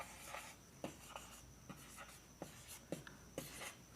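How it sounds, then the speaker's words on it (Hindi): Numbers being written on a board, a quiet series of short scratchy strokes and taps spaced irregularly, close and soft, with no talking. "तो मैं सबसे पहले इसमें नंबर्स लिख देता हूँ"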